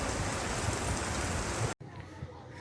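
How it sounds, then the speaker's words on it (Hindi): Heavy rain pours down in a steady loud hiss, then cuts abruptly and a quieter, softer rainfall background follows. "एत जोर से वर्षा होती"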